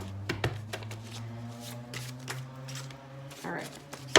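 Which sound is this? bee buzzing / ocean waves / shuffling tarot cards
shuffling tarot cards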